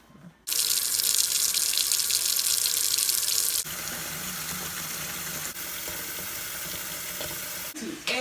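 Tap water gushes hard and steadily into a kitchen sink being filled with sanitizer to soak homemade beer brewing gear, loud and close, dropping slightly in level partway through as the flow settles.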